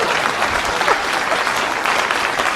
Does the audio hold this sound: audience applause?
yes